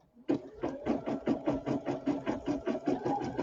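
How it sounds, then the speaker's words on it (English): Embroidery machine stitching satin stitches on a small fabric star, a steady rapid chatter of regular needle strokes at about four per second, close and continuous with no talking. "I'm just going to go ahead and do the last step so that it will do the satin stitches on my little star"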